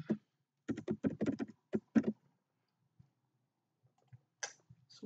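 Computer keys clatter in quick bursts while PHP code is typed, first a dense run of clicks and then a few scattered taps after a pause, close and fairly quiet.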